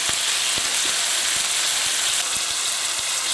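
Chorizo, chicken and onion fry in a paella pan with a loud, steady sizzle and hiss, broken by occasional faint clicks and taps.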